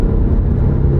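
An old car with almost 500,000 miles, built in Kentucky, roars under full throttle from about 38 mph, a loud steady low engine rumble with road noise throughout and no voices.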